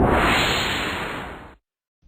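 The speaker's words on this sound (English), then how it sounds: "A whoosh to the final animation." A single smooth whoosh effect for a Flash text animation sweeps past loud and broad, fading over about a second and a half and then cutting to silence.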